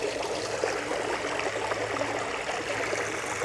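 Creek water flows and burbles close by on a hike, a steady broadband rush with small splashy gurgles, heard alone without talk.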